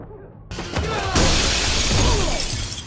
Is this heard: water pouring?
no